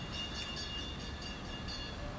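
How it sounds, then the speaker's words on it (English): A small road-going toy land train rolls past on the Great Yarmouth seafront, a steady rumbling drone with faint high tonal whine, continuous and moderately distant over the ambient outdoor background. "That's the sound of a tiny little train, one of those little toy trains going past that takes people from car parks to the seafront."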